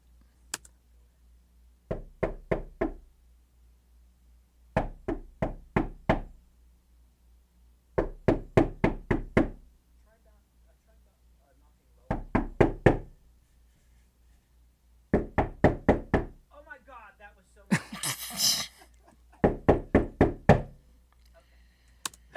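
Recorded foley door knocks played back in a home studio, arriving in repeated groups of about four to six close, sharp raps separated by short pauses, with a brief burst of noise between two of the groups.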